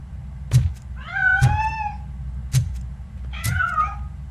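A cat meows twice in the video game RoboCop: Rogue City, each meow clear and close, with sharp thuds between them.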